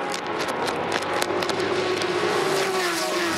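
Race cars at Road Atlanta, including Andy Lally's number 38 Porsche, roar past close and loud, with an engine note sweeping in pitch as a car passes by.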